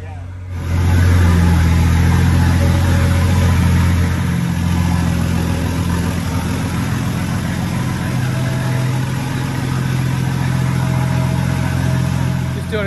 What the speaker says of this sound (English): There seems to be a bit of a miss since we've started it back up.